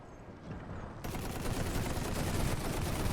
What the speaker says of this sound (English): being targeted now by machine guns